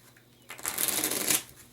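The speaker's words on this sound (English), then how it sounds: "Shuffle them cards." Board game cards shuffled by hand in one quick, dense riffle lasting about a second, close and moderately loud, with no voices over it.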